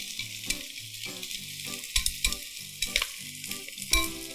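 Shiitake mushrooms fry in a little oil with a steady, fairly loud sizzle and occasional stirring scrapes, while background music plays underneath.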